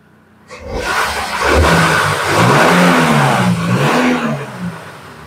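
A Proton Persona engine starts up and revs, rising to a loud, sustained roar with pitch swells as the throttle is pushed, then easing back toward idle, close by with no talk.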